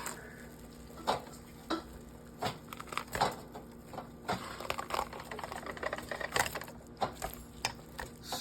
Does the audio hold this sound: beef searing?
yes